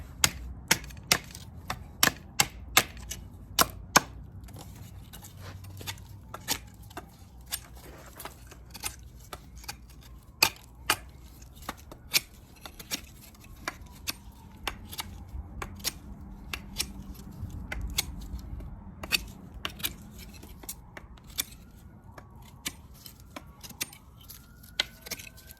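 A Szco Bowie knife carves a wooden tent spike, giving sharp, repeated scraping and chopping strokes in an irregular rhythm, close and fairly loud over a low rumble, with no talking.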